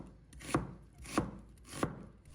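Three separate knife chops cut half an onion into strips on a board, each a sharp, crisp thud spaced evenly about two-thirds of a second apart, close and clear with no talking.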